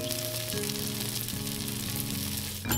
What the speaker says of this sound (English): Toast the hazelnut pieces on the pan on low or medium heat for 5 minutes until they turn brown and smell nice.